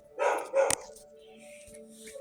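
A dog barks twice in quick succession at a distance, followed by quieter background noise and faint sounds.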